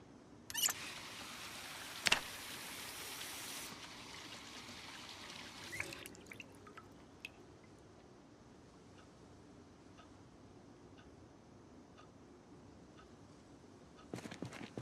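Water trickles and drips in the video game Project Zomboid. A steady quiet stream runs throughout, with a few sharp splashy bursts early on and scattered small drips later.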